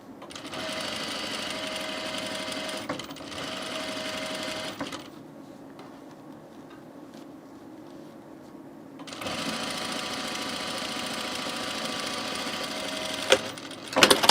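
A sewing machine runs tiny back stitches on a shirt in loud, rapid mechanical bursts, pausing for a few seconds of quieter handling in the middle before the fast stitching resumes, with a couple of sharp clicks at the end.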